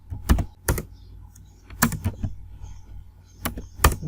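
Computer keyboard keys struck while typing HTML code, sharp close clicks arriving singly and in small pairs with uneven gaps, fairly loud and alone in a quiet room.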